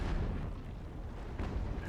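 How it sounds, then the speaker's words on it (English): A ship's magazine explodes during a naval battle in Ultimate Admiral: Age of Sail, a deep, muffled rumble that rolls on steadily at moderate loudness with no sharp crack. "An explosion to the magazine, sealing her fate."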